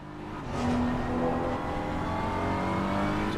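Porsche race car engine in a sim racing game at the Misano circuit, a steady loud drone with rising revs that holds a sustained whine through the whole stretch, no voices over it.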